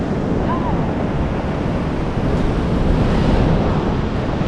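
Strong wind buffeting the microphone on a beach on Galveston Island, a steady loud broadband roar with surf mixed in, continuous throughout with no pauses.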